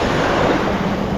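Broadband surf washing onto a sandy Gulf beach shore, a steady close rush of breaking and receding water with some wind noise, alone without voices.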